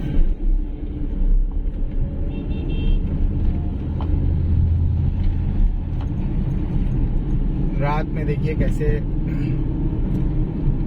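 A car drives on a road at night, producing a steady low engine and road rumble from inside the vehicle. Someone talks over it throughout, and brief tonal sounds appear near the end.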